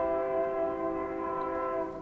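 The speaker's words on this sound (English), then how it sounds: "There's the train." A passing train sounds a long, steady horn with strong tonal harmonics, loud and sustained throughout before easing slightly at the end, with no voices.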